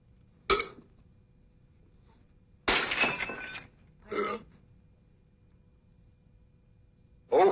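A glass breaks in a 1971 comedy film scene, a sharp crash followed by further clattering bursts, with a brief quiet gap and a last impact near the end, fairly faint overall.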